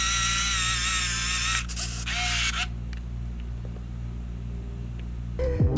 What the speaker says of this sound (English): The zoom on this thing is extremely loud.